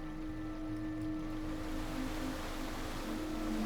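A waterfall in the video game Underrail gives off a constant soft, faint rushing wash with a low steady hum beneath, unbroken and alone.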